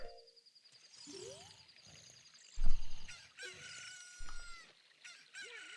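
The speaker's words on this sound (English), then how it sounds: "Double crow." Chicken in the video game The Legend of Zelda: Ocarina of Time crowing twice, with bright, squawking cries and other short clucks and honks scattered over a quiet background.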